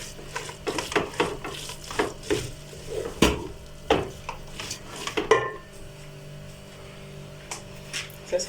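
Kale and beef being stirred in a metal cooking pot, with repeated sharp clinks and scrapes of a utensil against the pot in an uneven rhythm, loud and close, fading to a quieter hum near the end.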